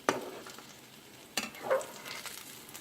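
Salmon croquettes frying in a pan just after being flipped, a soft crackling sizzle with a couple of sharp clatters from the utensil, fairly quiet and close.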